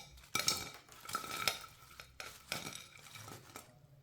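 Freshly fried capsicum (Shimla mirch) pakoras being moved onto a plate, a series of close metallic clinks and scrapes of a utensil against the dish in irregular bursts.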